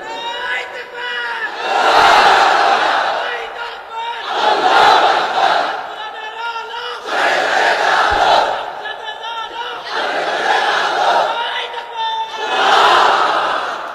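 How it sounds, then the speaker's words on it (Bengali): At a waz mahfil Islamic sermon gathering, a large crowd roars takbir in unison, five loud, evenly spaced collective shouts each swelling and fading, with a lone voice leading between them. "তাকবীর পড়েন তো দেখি, আল্লাহর নামে পড়েন, লিল্লাহি তাকবীর।"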